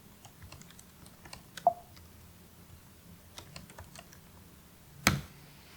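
A computer keyboard clicks softly as a command is typed, scattered keystrokes at an uneven pace with a couple of louder taps, close and quiet with no talk.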